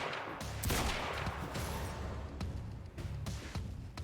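Rapid, dense gunfire from a weapon in the video game Quantum Break, a sustained loud barrage with sharp individual cracks punctuating it, close and continuous.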